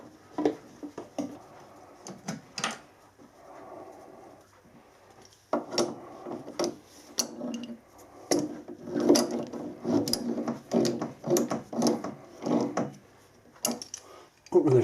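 A threadlocked gear pin for a traction engine is screwed in by hand, giving a series of close metallic clicks and ratcheting scrapes in uneven bursts, with someone talking between them.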